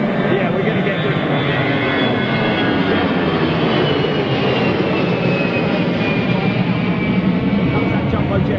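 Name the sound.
jumbo jet at Gatwick Airport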